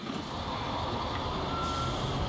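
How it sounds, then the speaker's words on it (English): A truck backs up in the video game Construction Simulator Europe, its engine rumbling steadily while a reversing beeper sounds a sustained tone partway through. "We can back this truck up through the"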